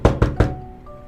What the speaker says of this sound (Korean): 창문을 두드려봐라